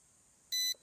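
A Ruko U11 Mini drone remote controller powering on, giving one short, clean electronic beep that stands alone in near silence.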